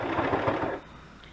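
A sewing machine runs a straight stitch along the edge of a lace journal cover in a quick mechanical rattling burst of under a second, then stops and leaves quiet room tone.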